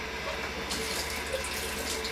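Water runs steadily into a sink while 4x5 film in a JOBO developing drum is rinsed, a constant close hiss and splash with a slight change in flow partway through.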